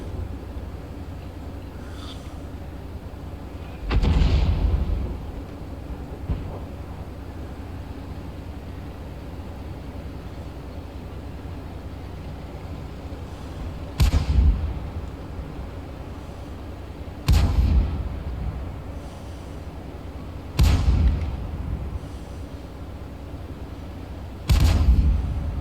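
Heavy tank cannon shots boom out in World of Tanks, five loud blasts spaced unevenly over a steady low engine rumble, each with a sharp crack and short rolling decay.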